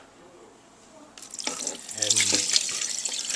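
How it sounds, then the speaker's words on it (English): Juice from a large 29-ounce can of mandarin oranges drains into a sink in a steady, splashing pour that builds midway and runs continuously to the end, with a brief word spoken early on. "drain off the juices"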